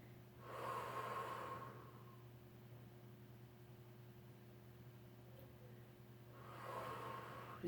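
Slow, audible breaths drawn in and pushed out during a Pilates floor exercise, two soft breathy swells at the start and end with a quiet steady hum between them, close and faint, no talking.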